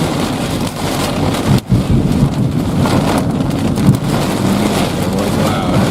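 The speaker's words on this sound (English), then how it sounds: "How was that not immediate thunder?" Heavy rain and gusting wind roar steadily close to the microphone during a derecho storm in Kansas, with deep rumbling thunder mixed into the dense, continuous wash of sound and no talking.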